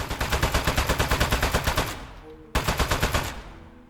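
Rapid automatic gunfire from a turret in the video game Aperture Desk Job, a fast steady burst of shots that breaks off briefly, then resumes for a shorter volley before stopping.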